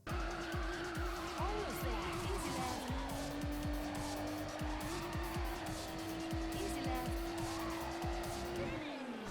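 Peugeot 205 rally car in the racing game Super Woden Rally Edge, a loud steady engine drone with rising and falling revs and repeated tire squeals and skids as it slides through corners, continuous and close.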